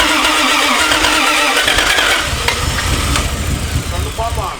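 A Toyota 1JZ VVTi swapped engine cranks with its fuel pump switched off, a loud sustained starter churn that weakens toward the end, with people talking over it.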